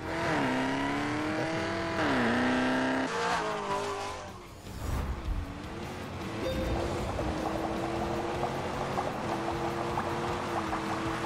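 A Hennessy-tuned car of roughly 1,000 horsepower in The Grand Tour Game roars loudly, its engine pitch rising and shifting through gears, then dropping briefly before revving hard again with tire squeal.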